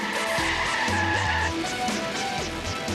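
A fire engine skids and spins on an airfield runway at speed, with loud continuous tyre squeal and shifting screeching tones over engine roar, steady and close throughout.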